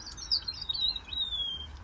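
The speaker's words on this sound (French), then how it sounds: "Je vais me taire un petit peu, vous allez voir le chant des oiseaux un petit peu." A Mozambique canary, the yellow-fronted canary, sings a quick, bright run of high chirps and trills, close and clear over faint background noise, with no voices.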